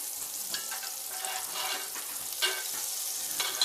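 Butter sizzling and frying in a lightly greased pan, a steady close crackle and hiss with occasional louder pops and spatters, no voices.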